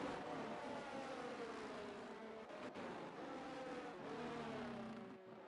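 Racing cars in a sim-racing league event at Austria's circuit sweep through a series of turns, a continuous layered engine roar that shifts pitch as cars pass, fading near the end.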